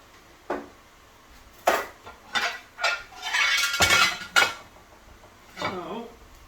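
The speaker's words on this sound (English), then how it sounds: "what I do is just flip the eggs over" Eggs flipped over in a frying pan: metal spatula clanks and scrapes against the pan in a run of irregular clatters, with a stretch of sizzling scraping and a brief voice near the end.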